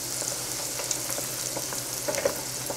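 Bacon mac and cheese balls fry in hot oil, a few at a time, giving a steady, close sizzle and crackle with scattered louder pops and no voices.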